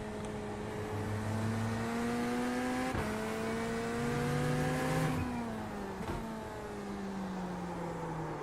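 A GTP prototype race car in iRacing at the Nurburgring howls through corners, engine pitch rising and dropping sharply with gear changes and lifts, continuous and fairly loud with no talk.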